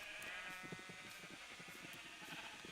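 A sheep in Minecraft gives a few soft, quick bleats, faint and close, over a low hum.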